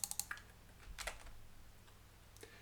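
A few crisp keystrokes clatter on a computer keyboard, a quick burst of taps then scattered softer clicks, close and quiet with no voice.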